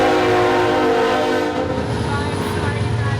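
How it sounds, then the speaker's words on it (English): A train rolls past and sounds its horn, a loud sustained blaring tone over a rumbling, clattering roar of rail cars, close by and drowning out everything else for the whole stretch. "train in the middle of the meditation"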